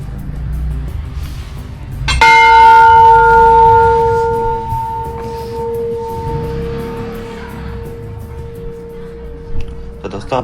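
A metal bell at Golu Devta temple in Champawat rings out once with a clear, long-sustaining tone that fades slowly, over outdoor background noise and a nearby voice.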